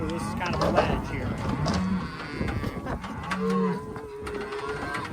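Calves mooing inside a livestock trailer, a few drawn-out low moos close by amid rattling and shuffling, with people talking over them.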